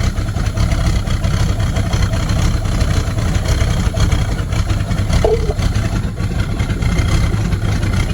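Supra TS6M ski boat engine, once sunken and abandoned, with about 1,300 hours, idling low and steady, a continuous rumbling drone that stays loud and even throughout with no talk over it.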